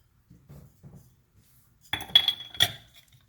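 A glass light fixture cover from a kitchen ceiling light is handled, giving a few soft taps and then several sharp, close glassy clinks and rattles in quick succession, with no talk.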